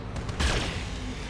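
Weapons salvo fired by a mech in the Battletech video game, a single burst of booming gunfire that swells suddenly and then rumbles away into a lingering low roar.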